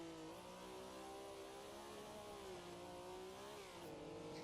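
A Ferrari 330 P4 race car engine in Assetto Corsa, held against the rev limiter so its high, steady wail stutters and bounces continuously, loud and alone.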